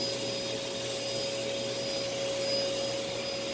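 A Sanyo SC30 vacuum cleaner runs steadily with a constant motor roar and a thin, sustained whine riding on top, close and unbroken throughout with no talking.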